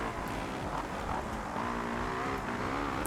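Motocross bike engine in the racing video game MXGP2 during a rutted Belgian track race, a constant buzzing, revving drone with shifting pitch, fairly faint and without talk.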